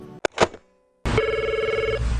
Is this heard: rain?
no